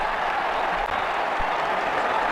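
A stadium crowd applauds steadily after a cricket shot in Ashes Cricket 2009, a dense, even wash of clapping and cheering throughout.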